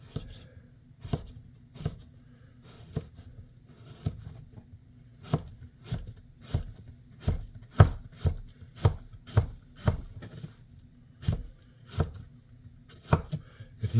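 A knife chops plantain quarters held together on a cutting board, a steady series of sharp, evenly spaced knocks close up, roughly one per second, with a low background hum and no talking.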